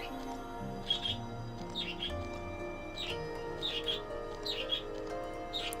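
Bird chirps in the video game Okami, short bright tweets repeating about once a second over a soft steady musical background, moderately close and clear.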